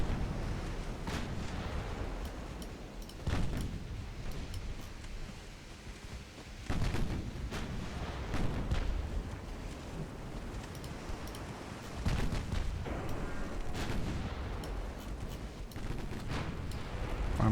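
Naval cannon fire on both sides in a warship battle game: dense, rolling broadside booms overlapping continuously, with heavy thuds and crackling volleys swelling and receding, no talk.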